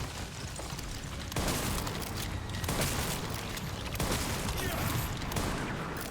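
Gunshots in the survival horror game Resident Evil 9 Requiem boom in a few heavy, evenly spaced blasts, loud and close, each followed by a dense roar of game sound.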